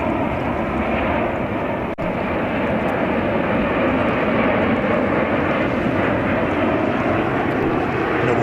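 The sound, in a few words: Mitsubishi CRJ 900 jet airliner at JFK airport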